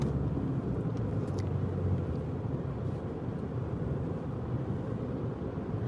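A car drives through the Eysturoyar road tunnel on a gentle incline, giving a continuous, loud low rumble of road and engine noise echoing steadily throughout, with no talking.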